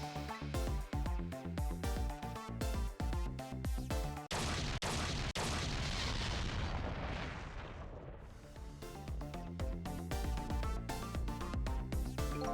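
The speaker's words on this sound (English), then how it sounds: "I think I heard an explosion somewhere." A deep booming explosion from the video game Ghost Trick rumbles and swells for several seconds, breaking through rhythmic game music that fades out and then returns.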